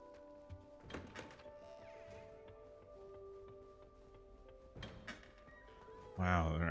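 A wooden door swings open with a couple of thunks and a creak inside a castle room in Hogwarts Legacy. A second knock follows, then a bright magical chime at the end, all over a steady ambient game hum.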